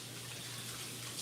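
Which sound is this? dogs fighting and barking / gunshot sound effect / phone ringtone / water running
water running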